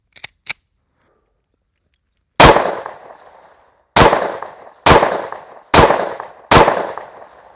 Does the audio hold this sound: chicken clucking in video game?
no